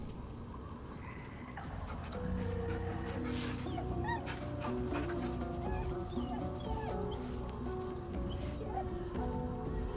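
A dog in Baldur's Gate 3 whimpers in soft, repeated whines over a steady ambient backdrop with faint chirping, and the whining stays moderate and close.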